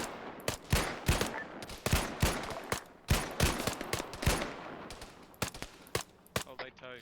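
Repeated gunshots from a squad-based video game, sharp cracks in quick irregular bursts close by, with voices talking underneath.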